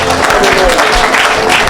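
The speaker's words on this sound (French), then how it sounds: "Put your hands together for the Lord" Applause from the congregation at a lively church healing service, steady clapping filling a brief stretch with crowd noise and some background voices mixed in.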